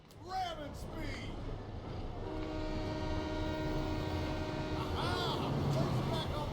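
A train in the Sunset Overdrive video game rolls along its rails with a steady rumbling drone and a long sustained horn-like tone through the middle. Brief voice fragments come at the start and end.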